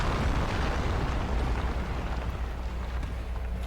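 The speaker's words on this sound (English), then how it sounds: "he has one of those explosions" A boss in a Souls-style action game sets off a sustained explosion, a dense roaring rumble that fills the whole stretch and fades slightly toward the end with no voices over it.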